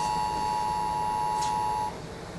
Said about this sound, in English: that is the noise that thousands of cell phones around the Bay Area made last night